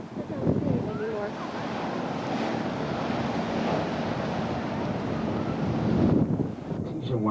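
Surf surging into an ocean blowhole on the Hawaii coast: a broad, rushing roar of churning water and wind that swells and fades over several seconds, loud and close, with a voice speaking briefly over it near the start.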